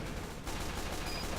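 Pistol and sentry gunfire crackle in Team Fortress 2, a fast, dense run of quiet shots in a short burst.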